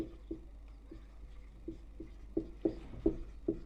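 Chalk or marker taps and scratches on a board during a physics lesson, a sparse run of short dry strokes that grows firmer and louder toward the end, close by with no talk.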